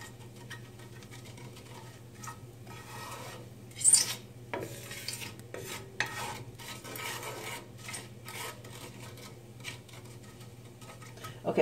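Spices toast in a pan with coconut oil and asafoetida, a quiet steady sizzle with occasional soft scrapes and clicks of stirring, no talk.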